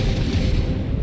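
Sustained rumbling gunfire in the sci-fi video game Starfield, dense and loud throughout with a continuous low-frequency roar of shots and blasts, no clear gaps between them.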